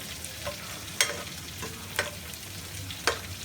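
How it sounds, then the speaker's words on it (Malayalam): Chopped carrot sautéing in sunflower oil over a high flame for ghee rice, a steady close sizzle broken by a few sharp scraping stirs of a spoon against the pan, with no talking. "ഇനി നമുക്കിതൊരു ഹൈ ഫ്ലെയിമിലിട്ട് ഒരു 2 മിനിറ്റ് നമുക്ക് ഇതൊന്ന് സോട്ട് ചെയ്തെടുക്കാം."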